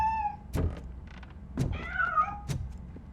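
A cat meows in the RoboCop Rogue City video game, a few rising and falling mewls between heavy thuds and clunks of game effects, fairly close and clear.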